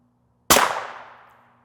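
A single sharp rifle shot from a 24-inch barrel, firing a full metal jacket round in a SIG hybrid case, cracks loudly up close and then rings out in a fading tail lasting about a second.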